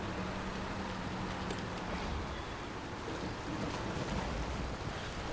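A truck pushes through a river water crossing in Snowrunner, giving a steady, loud wash of churning water and engine rumble with no pauses or speech.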